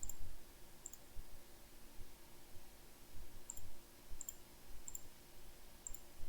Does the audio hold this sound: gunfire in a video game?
no